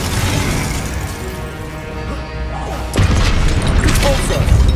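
Glacius ice spell cast in Hogwarts Legacy during a fight at Rookwood Castle: a loud, dense burst of cracking, shattering impact sound over steady game noise, with a second heavy hit partway through.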